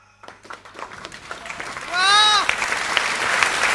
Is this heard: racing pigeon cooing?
no